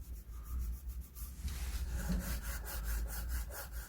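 Hand rubbing back and forth across a wooden furniture surface during DIY finishing, a steady, fairly close friction scrape in repeated strokes with no talking.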